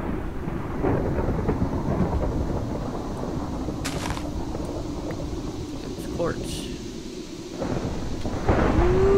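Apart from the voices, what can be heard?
thunder and lightning storm, from video game modded Minecraft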